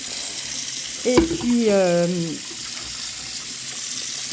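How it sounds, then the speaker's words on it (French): An appliance is rinsed under a running tap, a steady wash of flowing water that continues throughout, with a brief spoken phrase partway through. "je rince l'appareil"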